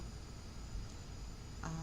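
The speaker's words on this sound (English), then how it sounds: "you're hearing frogs in the background" Frogs calling in the background outdoors at night, a faint, steady chirring chorus with a thin high-pitched drone running throughout, distant and low in level.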